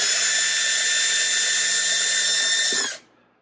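A power drill bores steadily into helmet material with a bright, high-pitched whine that holds for about three seconds and then cuts off abruptly, leaving near silence.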